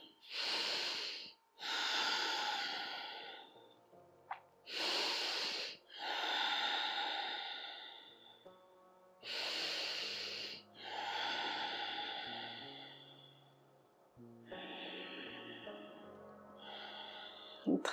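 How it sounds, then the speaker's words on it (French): Deep, slow breaths during a seated chair yoga session, each long inhale and exhale rising and falling in a steady rhythm, close and clear with no talking. "on respire profondément"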